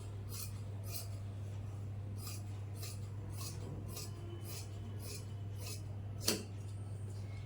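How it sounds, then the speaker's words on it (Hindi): Scissors snip through fabric being cut for a salwar, a regular series of crisp, close cuts about every half second, with one sharper metallic clink near the end over a steady low hum. "यहाँ से कपड़ा कटिंग करके अलग कर देंगे।"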